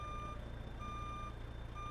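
Truck reversing beeps from a backing semi in American Truck Simulator, a steady high-pitched alarm tone repeating over a continuous low diesel engine drone, with no talk.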